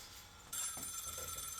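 A bat phone starts ringing abruptly, a sustained bright trilling tone that continues steadily at close range.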